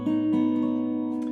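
A single sustained acoustic guitar melody note in DADGAD tuning with a capo, fretted on the G string, ringing clearly and close with a steady tone and no talk.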